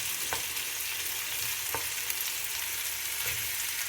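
Onions sizzle steadily in a frying pan, a constant close hiss with a few soft clicks of stirring and no voices.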